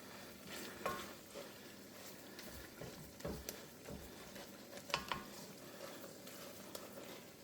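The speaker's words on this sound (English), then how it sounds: "Okay, now it's about a flat disc. It's going to fry up." Flattened disc of meat frying in a pan while cooking a white lasagna, a soft steady sizzle under occasional scraping stirs and light clicks of a utensil against the pan, close but fairly quiet.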